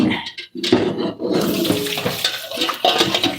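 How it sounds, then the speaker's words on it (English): Water gushes steadily while cooked cold Korean noodles are strained in a kitchen, a loud continuous rushing and splashing that fills the whole moment. "And now we're just going to strain it."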